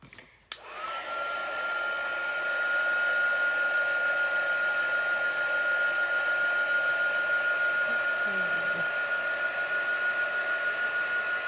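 A hair dryer blows a steady, loud whirring whine close by, drying paint on a handmade craft bunny, running without pause after a brief click at the start.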